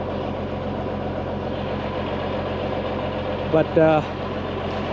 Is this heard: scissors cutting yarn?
no